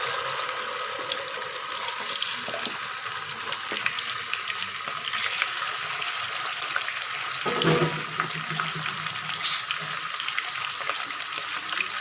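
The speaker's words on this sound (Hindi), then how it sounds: "ऑयल हमारा थोड़ा गर्म हो गया। अब हम इसमें चिकन ऐड कर देंगे।" Raw chicken pieces fry in hot oil for a karahi, giving a continuous bright sizzle and crackle throughout, with a brief stirring clatter near the middle.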